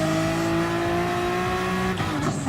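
Honda NSX Gr.4 race car drifting in Gran Turismo Sport, a steady high engine drone with layered harmonic whine held throughout, shifting near the end with a brief burst of tire noise.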